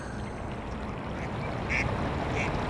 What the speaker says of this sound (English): Ducks are actually super mean and aggressive.